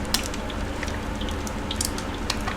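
Brick pastry sheet wrapped around an egg, dropped into hot oil to fry for a Tunisian brik, giving a steady close sizzle with scattered small pops and crackles throughout, no voices.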